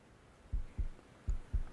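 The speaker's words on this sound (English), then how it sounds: "the low health heartbeat" Low-health heartbeat effect in a Unity VR fitness app: two pairs of deep, thumping lub-dub beats, evenly spaced and clear over quiet background hum.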